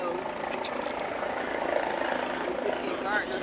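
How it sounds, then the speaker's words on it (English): A helicopter hovers overhead, its steady rotor drone filling the background under a crowd gathered outdoors, with voices talking over the constant whirring. "when you have choppers hang over you. Messes with the audio, right?"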